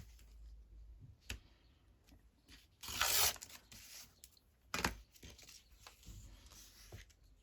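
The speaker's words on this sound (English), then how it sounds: "Just tear that off. And we'll just tear that one off." Paper is torn by hand along an edge for a long collage masterboard, giving a few short rips and one longer, louder tear in a quiet room.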